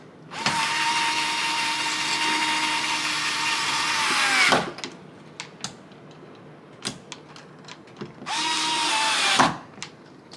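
A power drill drives a screw into a doorknob being replaced, with a long steady whirring burst of about four seconds, then a few faint taps and clicks, then a second shorter whir; close and loud, no talk.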